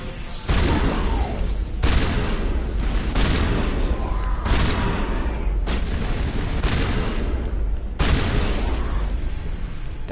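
Shotgun fire in the video game Mass Effect Legendary Edition, a series of loud, heavy booming blasts spaced a second or two apart over a dense, continuous roar of combat noise.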